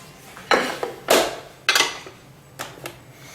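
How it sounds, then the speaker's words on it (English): A knife strikes a plate several times while flank steak is cut: sharp, bright clinks in an irregular rhythm, close and fairly loud, with no talking. "She knows the sound of the knife hitting the plate."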